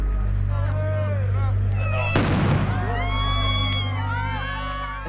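A sudden loud blast from a suicide bomb during a US soldiers' patrol in Sangan village, Afghanistan, cutting through shouting voices and music-like tones, followed by chaotic crowd noise.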